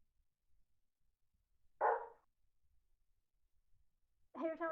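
A dog gives one short bark, then a second starts at the very end, each isolated against near silence in a quiet indoor room.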